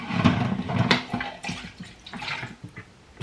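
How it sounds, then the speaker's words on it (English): Asda orange and mango juice is poured into a container, starting as a strong close gurgling stream that tapers into softer splashes and drips. "Pour your juice in."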